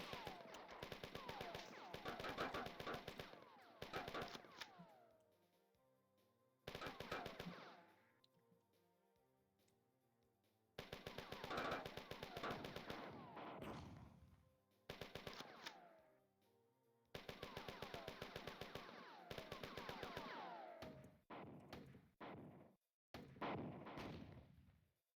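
Gunfire in the classic Bungie shooter Marathon, with long bursts of rapid machine-gun fire that stop and start several times, loud and close, separated by quieter gaps with low background noise.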